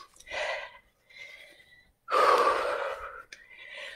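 Forceful breath exhales during a HIIT and yoga workout, two audible rushes of air, the second louder and longer, with a softer breath between; no talking.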